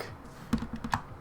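Typing on a Corsair K75 Rapidfire mechanical keyboard whose Red Bull–sticky numpad keys catch: a handful of close, crisp key clicks in an uneven rhythm, with two sharper strikes standing out.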